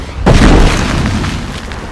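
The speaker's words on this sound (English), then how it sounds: "The predators arrive with a nice soft landing." A Predator ship from Alien vs Predator lands with a sudden, loud, deep boom that rolls into a rumbling roar and slowly fades.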